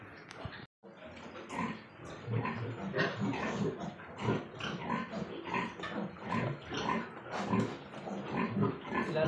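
Piglets squeal and grunt almost nonstop as they are caught ahead of an iron injection, with loud overlapping cries close by and some sounds that resemble a dog, while someone talks under the noise.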